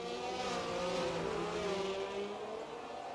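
Racing cars in a sim-racing league sprint at Austria scream along under acceleration, a sustained close engine whine with harmonics rising and shifting as they run nose to tail.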